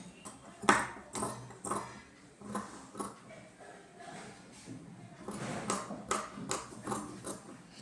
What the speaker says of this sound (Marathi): आता कटिंग आपलं चालू झालेलं आहे.